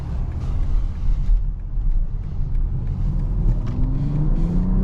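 A 2024 BMW X6 40i engine pulls hard under acceleration, a steady loud rumble from inside the cabin that rises in pitch toward the end.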